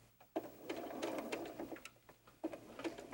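Home sewing machine stitching quilted fabric and lining for a doll-sized backpack: a rapid mechanical whir in short bursts, stopping and restarting with light clicks, close by and with no talk.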